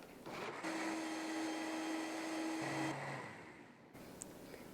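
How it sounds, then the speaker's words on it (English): A blender whirs steadily for a few seconds while puréeing chipotle peppers and adobo sauce. The motor hums loud and close, dips in pitch briefly, then spins down to a quieter rattle. "I'm gonna blend it really well"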